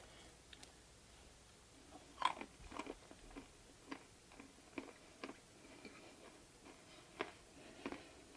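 Gluten free Chex Mix made in a Camp Chef XXL pellet smoker, one batch with Southwest Fajita seasoning, crunched close to the mouth in a string of sharp, separate bites and chews over a quiet background.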